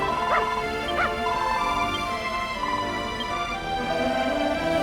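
A dog in the video game Dragon Quest Builders 2 gives a few yipping, whimpering barks over steady game music, with two sharp calls near the start.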